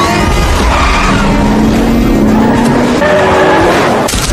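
A taxi driven recklessly toward an airport, its tires squealing and skidding continuously at close range while the engine roars loudly, with no talk.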